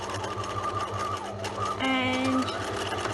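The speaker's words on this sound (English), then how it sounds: "in one go, we're going to stitch all the way to the end, making sure you have your hem folded over" A sewing machine runs steadily in one continuous pass along the folded hem of a scrunchie, a close, even mechanical whir with a brief higher-pitched surge near the end.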